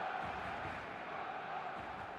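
A stadium crowd in an eFootball match makes a steady, distant roar with a faint hum of voices, low in level and unbroken throughout.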